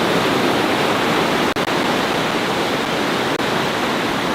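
Sea water in Australia rushes in a loud, unbroken roar of surf, broken only by two tiny dropouts, with no voices.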